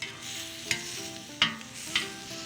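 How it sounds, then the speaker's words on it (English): Shell-on shrimp grilling with lemongrass over steady, low background sizzle, broken by three soft clicks or scrapes of turning or moving them on the grill. "grilling shrimp in their shells like this keeps them moist and tender"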